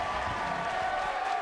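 A crowd at a Halo HCS Major esports match in Arlington, during Optic versus Complexity, cheers and applauds in a loud, dense, sustained roar.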